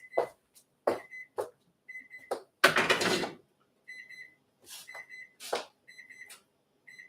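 A kitchen timer beeps in short repeated bursts of bright electronic tones, broken by clattering handling noises and one louder rushing burst. It sounds close and indoors.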